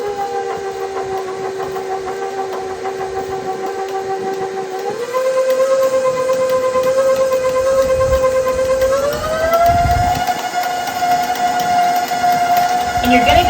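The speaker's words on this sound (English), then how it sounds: "We're going to put them in the mixing bowl. And we are going to turn it on very carefully so that we don't have a puff of smoke" An electric stand mixer beating dry ingredients into zucchini bundt cake batter, a steady whining motor hum that steps up in pitch twice as the speed increases, with a voice talking over it.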